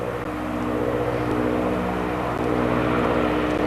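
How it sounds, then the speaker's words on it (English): A float plane taking off on water in Alaska, its propeller engine droning loud and steady at full power throughout, with no voices. "That other plane's kind of hovering right now, waiting for this one to take off"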